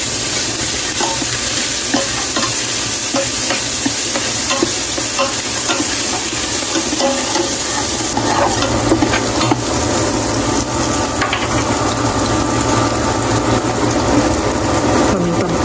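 Hotdogs frying and being stirred in a pot with garlic and onion for sopas, a steady loud sizzle with continuous scraping stir strokes throughout.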